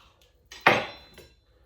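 A knife works through a nice dry ham on a board, cutting it into strips: a brief soft contact, then one sharp clack with a short ringing decay and a faint tap after it.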